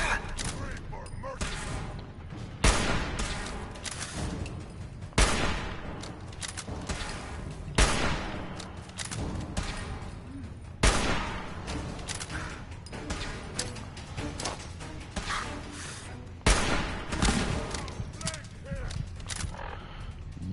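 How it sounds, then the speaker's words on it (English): Heavy .50 cal fire and a grenade blast in Fallout 4, loud repeated booming bursts every few seconds with dense rattling between, while a person talks throughout. "Threw that grenade and then hit him with that 50 cal so he couldn't run"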